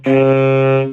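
A short saxophone B flat struggling to sound, about a second long, steady but thin before it cuts off, close and fairly loud.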